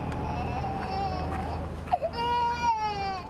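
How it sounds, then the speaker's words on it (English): Distressed infants wail on a dockside at Lampedusa as exhausted migrants arrive, their cries rising and breaking in sobbing bursts, close and loud over a steady murmur of background noise. "The sound of distressed infants filled the dockside air"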